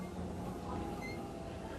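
A Seoul subway train runs with a steady low rumble and faint wheel hum, a continuous, moderately quiet drone with no voices.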